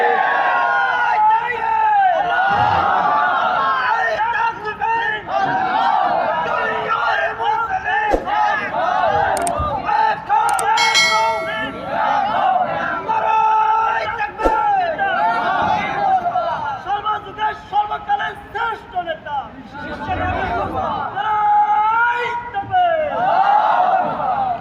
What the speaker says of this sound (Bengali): সে একটা সুন্দর স্লোগান দিচ্ছে